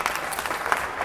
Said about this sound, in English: Some crappy cheering by the Warriors fans who are trying to figure out what just happened.